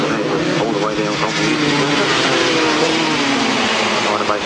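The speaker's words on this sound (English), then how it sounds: "So the 250s again, revving up over there for race 13, and away they go." A pack of 250cc grasstrack motorcycles revs hard at the start of a 1994 race, a loud, sustained engine roar from the grid, with an announcer talking over it.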